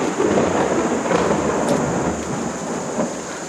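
A thunderstorm effect in a stage performance of King Lear, a loud, steady wash of rain-like roar with low rumbling underneath, and no voices over it.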